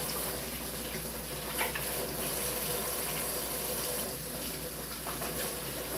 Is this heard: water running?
yes